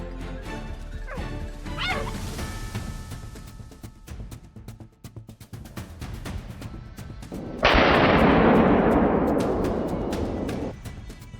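A rifle shot cracks out during a wild boar hunt in a swamp, a loud sudden blast with a long rumbling decay, preceded by quieter rustling and barking hounds.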